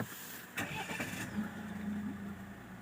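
A car engine starting during DPF regeneration repair work, a brief crank followed by a steady idle close by.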